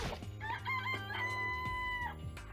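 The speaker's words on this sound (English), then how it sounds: "It's a chicken." Rooster crowing in the video game Danganronpa, a drawn-out cock-a-doodle-doo with clucky rises, mid-distance over a low steady background hum, no voices.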